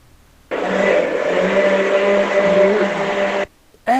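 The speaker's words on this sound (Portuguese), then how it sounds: "Eita, que ligaram o liquidificador." An electric kitchen blender starts abruptly and runs for about three seconds with a loud, steady motorized whine and buzz, then cuts off sharply.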